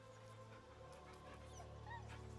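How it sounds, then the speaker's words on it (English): Scratch, the dog companion in Baldur's Gate 3, whimpers and yips softly over a steady bed of game music, the small canine cries rising briefly near the end. "Good doggy, good doggy."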